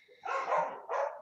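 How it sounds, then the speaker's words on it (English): A dog barks outside, two muffled barks a short distance away, moderately loud against an otherwise quiet room. "Oh, there's a barky dog out there."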